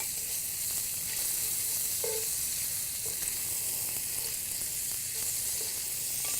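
Food left to crisp in a hot pan sizzles and hisses steadily at close range, with a few soft knocks scattered throughout and no one speaking.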